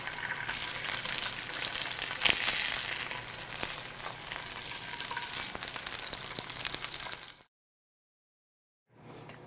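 Salmon fillets sizzle steadily in a hot pan, a dense continuous crackle with occasional louder pops and a brief stir, close up, then cutting to silence before a faint return.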